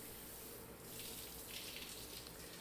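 A shower runs in a steady, faint hiss of falling water in a shower room, continuous throughout with no voices.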